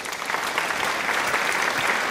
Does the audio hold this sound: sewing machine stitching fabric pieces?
no